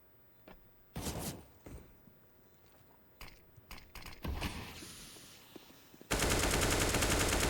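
Counter-Strike: Global Offensive gunfire in a pro match between Astralis and BIG: scattered single shots and short bursts with small metallic clicks, then a sudden loud sustained spray of rapid fire at the end.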